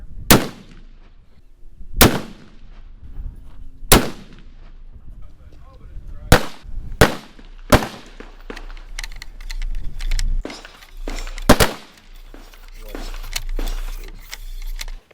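Loud, sharp rifle shots from a Christensen Arms Ridgeline FFT chambered in 7 PRC crack out one at a time at irregular intervals of a couple of seconds, each followed by a brief decay, with a low background rumble between them.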